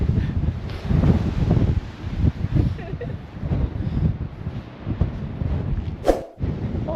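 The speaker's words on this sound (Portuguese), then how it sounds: "ali o vento tá tão forte que eu quase que voo ali" Strong gusty wind buffets the microphone on the Portuguese Costa Azul coast, a steady roaring rumble with surging gusts, loud and close, continuing throughout with a brief dropout near the end.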